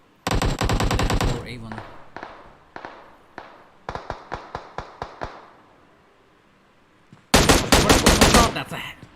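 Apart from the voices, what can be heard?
gunfire in BGMI video game match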